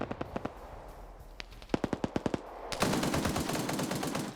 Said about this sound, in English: GMG firing, but it's short.